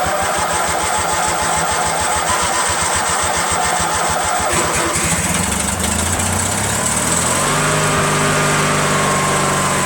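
A Briggs & Stratton opposed-twin engine with dual carburetor and fuel pump cranks rapidly and loudly without catching, a steady chugging rhythm from the starter that then shifts into a smoother whirring hum.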